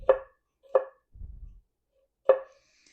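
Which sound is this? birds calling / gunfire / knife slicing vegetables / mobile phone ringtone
knife slicing vegetables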